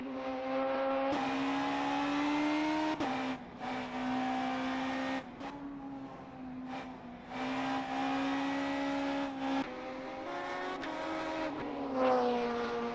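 Race car engine in a racing game at Suzuka, revving hard through the turns with a loud, continuous harmonic drone, briefly dipping on downshifts and lifts before climbing again, heard alone.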